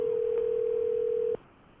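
A steady telephone dial tone plays from a cell phone on speaker in a school board meeting room, holding one unbroken pitch before cutting off abruptly, leaving faint room noise.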